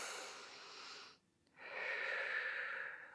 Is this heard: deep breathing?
yes